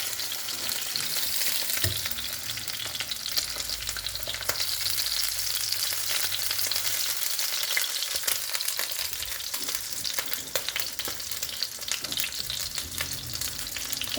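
Bacon fat melting and frying in a pan, a steady, even sizzle with faint crackles throughout, alone without talk.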